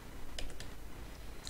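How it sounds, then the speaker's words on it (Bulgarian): A few quick, light clicks come from keys being pressed on a computer keyboard's numeric keypad, close and quiet, spaced over under two seconds. "използвам отдясно клавиатурата с цифрите и пиша нещо"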